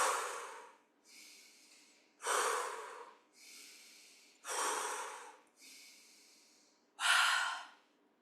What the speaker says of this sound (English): Some deep breaths.